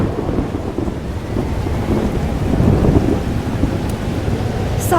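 A thunderstorm in the video game Life Is Strange: Double Exposure, with steady heavy rain and low rumbling thunder that swells slightly midway. The sound is loud and continuous, with no speech over it.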